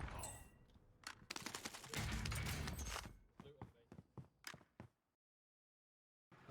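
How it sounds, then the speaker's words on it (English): Rapid bursts of automatic gunfire and sharp single shots ring out in the Warzone video game, dense and loud at first, then thinning into scattered cracks before falling silent. "I'm hearing them shooting where they took down my teammate's armor"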